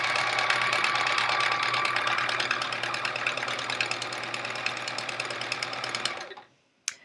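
A sewing machine runs steadily, stitching a Charming Chevrons quilt made from fabric scraps, its fast, even buzz holding for about six seconds before cutting off, followed by a single faint tap.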